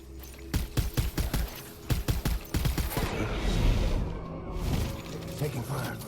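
Gunfire in Death Stranding, rapid bursts of close automatic shots in quick clusters that give way to a rumbling, noisy wash.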